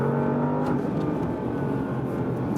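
A Porsche Panamera Turbo S e-Hybrid drives fast in Sport Plus mode on a slightly wet road, its engine giving a steady, close, humming drone with faint road noise throughout.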